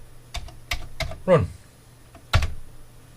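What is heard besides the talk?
typing on a Commodore 64 keyboard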